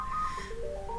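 A mobile phone ringtone chimes through a room during a church intercession gathering, a bright repeating melodic tone that steps down to a lower pitch midway and carries on steadily, fairly loud and unaccompanied by talk.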